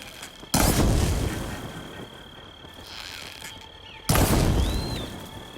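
Two loud, close booms from a Blaze canister bursting in Horizon Forbidden West, each with a sharp onset and a long rumbling tail, spaced a few seconds apart over quiet ambience.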